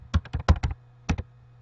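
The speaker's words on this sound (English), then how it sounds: "Okay, so I'm typing homework number 1." Typing on a computer keyboard: a quick run of about six crisp, close key clicks, a short pause, then two more taps, over a faint steady hum.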